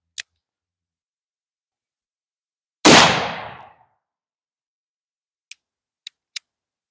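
One round fired from an 8-inch barrel: a single loud, sharp gunshot with a short decaying tail, set apart by near silence and a few faint clicks before and after.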